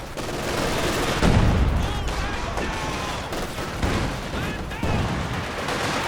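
Katyusha rocket artillery in the Company of Heroes 2 strategy game fires a loud, sustained barrage of rapid cracks and blasts that roll on for several seconds, with no speech over it.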